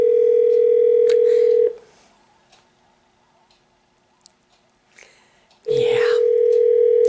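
A steady telephone dial tone hums loudly before a prank call, breaks off into near silence for several seconds, then returns just as loud and unbroken.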